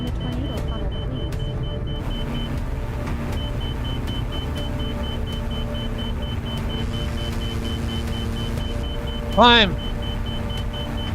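A small aircraft engine holds a steady throttle drone while flying into a tornado in the drunk-flying game InebriAir. The hum runs evenly throughout, with a short shouted voice near the end.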